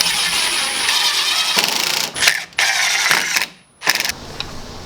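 A power driver sinks screws into wooden boards of a farmhouse-style desk, with loud whirring bursts broken by short pauses and a near-silent gap before a final short run.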